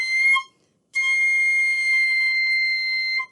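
A piccolo sounds a B note, bright and piercing, in a short burst, then a brief gap, then a longer steady held tone.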